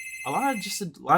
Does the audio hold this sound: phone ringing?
yes